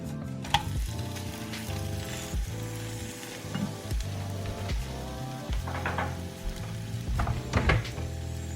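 French toast sizzles in a frying pan, a steady close frying hiss over a background of music, with occasional soft scrapes and clicks, and no talking.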